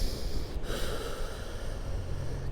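Steady breathing during a core strength workout, a continuous airy rush of breath close to the microphone, moderately loud, with no talking.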